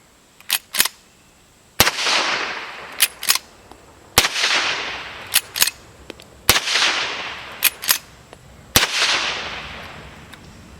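Four loud gunshots from a Taylor's TC73 9mm lever-action rifle, spaced about two seconds apart, each ringing out with a decaying echo, with sharp clicks between shots from working the lever.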